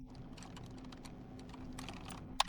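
Keys clatter quickly on a computer keyboard during setup of ADB tools, a close, quiet run of taps that ends in one sharper press of the Enter key.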